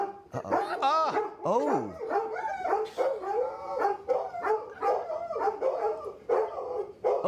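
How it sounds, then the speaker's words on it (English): Dogs bark and howl in rapid, overlapping bursts with rising and falling howls, loud and close throughout, with a brief spoken exclamation mixed in. "Yo, these dogs are driving me crazy."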